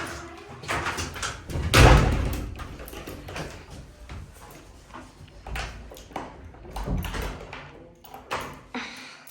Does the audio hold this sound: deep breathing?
no